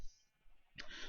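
A single sheep bleat from Minecraft, a short nasal cry that starts suddenly and lasts about half a second, heard alone and at moderate level.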